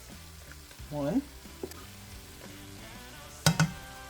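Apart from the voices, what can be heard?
flour cooking in butter with onions and garlic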